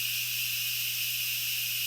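A pressure cooker full of adobo vents steam naturally with a steady, even hiss that holds at one level from start to finish, with a low hum underneath and no voices.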